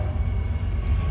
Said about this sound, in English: we just had that train go by